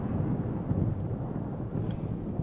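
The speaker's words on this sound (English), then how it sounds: "That sounds like thunder to me." Low rumbling thunder rolls continuously in Microsoft Flight Simulator 2024 aboard an iFly Boeing 737 Max 8, a deep, steady storm rumble with faint clicks and no talking.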